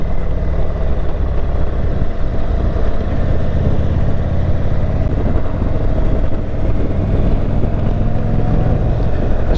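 Steady broadband rumble of an Indian Super Chief Limited motorcycle riding over bumps, with constant low engine drone and wind buffeting the microphone throughout, loud and unbroken with no talking.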